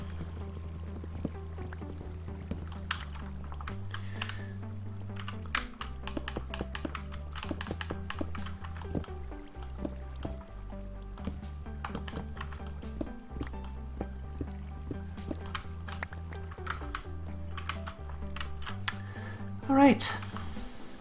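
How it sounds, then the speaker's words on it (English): Keyboard and mouse clicks from shift-clicking items while playing Minecraft, rapid and irregular close taps running throughout, layered over steady game background tones and occasional talk. "I'm shift clicking everything now"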